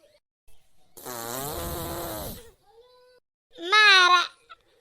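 A daughter-in-law's fart in an Awadhi comedy skit: one long, rasping, wavering burst, then a short sharp second blast after a brief gap, loud and close with no talk.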